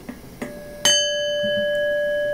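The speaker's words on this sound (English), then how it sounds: "So okay, so we have singing bowl with the" A singing bowl struck once after a couple of soft taps, ringing out with a bright, clear, sustained metallic tone that hangs steadily and slowly fades in a quiet room.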